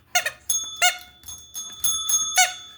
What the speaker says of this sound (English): I'm trying to ring them both at the same time.